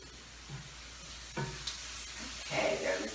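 Onions sizzle gently in a pan, a soft steady hiss with small crackles and occasional louder bursts, fairly quiet and close, with no talking.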